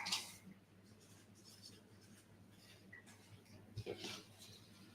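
A pen scratching out a quick handwritten note, faint and close, in a few short scribbling strokes over a quiet background.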